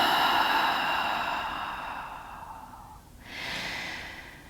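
A long, deep exhale during gentle hatha yoga breathing, a steady breathy rush that fades out, followed by a softer, airy breath at the end.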